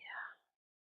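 A soft, breathy exhalation during a slow yoga breathing exercise, close and brief, fading out into silence.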